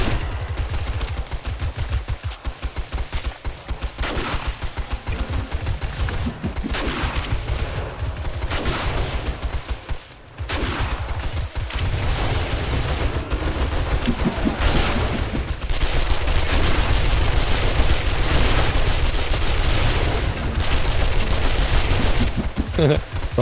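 Repeated gunfire from a player's gun in 7 Days to Die with the Rebirth mod, loud rapid volleys and bursts running throughout with brief gaps, a voice talking beneath the shooting.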